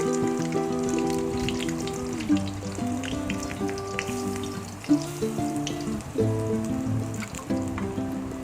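An egg fries in a pan with a steady, close crackling sizzle throughout, broken by a couple of sharp pops and shifts as it is turned.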